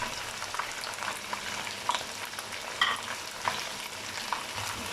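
Spices and chicken fry together for biryani in a steady, dense sizzle, with small crackles and pops scattered through it and no talking.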